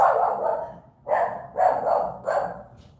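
A dog barking close by in four separate bursts, the first long and wavering, the next three shorter and evenly spaced, loud and clear with no talk.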